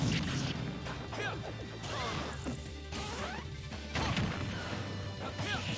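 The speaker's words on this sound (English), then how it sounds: "Nice scoop on the up smash there." Falco's up smash connecting in a Super Smash Bros. match: sharp, loud crashing hits and whooshing swipes repeat amid busy game effects, with a commentator's voice faintly underneath.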